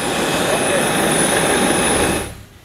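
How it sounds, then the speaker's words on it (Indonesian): Steady, loud roar of an aircraft carrying humanitarian aid arriving at Port Vila, Vanuatu, a dense broadband engine rumble with a high whine that cuts off abruptly near the end. "3 pesawat yang membawa bantuan kemanusiaan kali ini tiba di Port"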